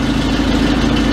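An Oliver 66 tractor engine idles smoothly and steadily, a loud, even low rumble with a faint ticking beat running throughout, close by and with no voices over it.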